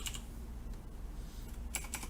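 Rapid clicking keystrokes patter on a computer keyboard, close but quiet, while code is typed for controlling NeoPixels, with denser bursts of key presses near the start and the end.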